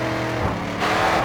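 A race car in the video game GRID 2 drifts around a corner, its engine revving loudly and steadily with a brief surge of tire and engine noise toward the end, with no voices.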